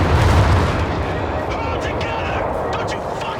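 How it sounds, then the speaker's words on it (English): Carpet bombing in the World War II strategy game Company of Heroes 3, a heavy continuous roar of overlapping explosions with deep rumbling booms, loud and dense throughout with faint voice-like sounds over it. "Here comes the carpet bombing"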